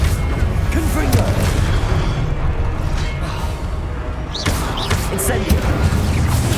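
Confringo explosive spell blasts in the Hogwarts Legacy video game, loud booming impacts with crashing debris layered over busy continuous combat noise, with a voice speaking over them.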